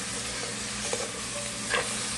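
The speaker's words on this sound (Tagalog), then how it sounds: "Gisahin muna natin bago lagyan natin ng sabaw." Squash sautés in a hot pan before broth goes in, a steady close sizzle with a couple of brief scraping stirs, no voices over it.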